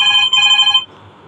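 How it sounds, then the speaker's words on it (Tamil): A phone rings with a bright electronic ringtone, loud and close, repeating in two bursts before cutting off, leaving quiet room tone. "அச்சோ ஃபோன் அடிக்குதா?"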